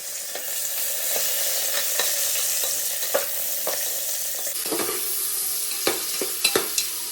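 Peas frying in homemade ghee in a pan, a constant close sizzle punctuated by repeated scraping stirs of a spoon, growing busier toward the end, with no voices.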